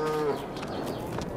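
Cows mooing in a Farming Simulator 22 farm game, one long low moo at the start over a steady farmyard background murmur, no talk.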